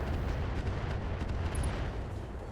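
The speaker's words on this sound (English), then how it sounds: "Not a great long tom shot there." Long Tom artillery cannon firing in the RogueTech mech battle game, a heavy booming blast with rumbling low-end reverberation, loud and alone without speech.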